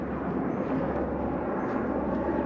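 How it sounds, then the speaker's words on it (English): Helicopters fly overhead with a loud, steady rotor and engine roar that holds constant with no voices. "Pretty cool choppers, huh?"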